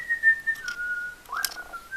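A woman whistles a simple wavering tune, a few clear sustained notes that slide between pitches, close and unaccompanied.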